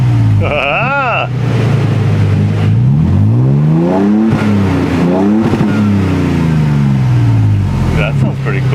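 A 2022 vehicle with a Magnaflow Overland Series exhaust is revved hard several times up close, the deep engine tone climbing and dropping in repeated swells above a constant loud idle.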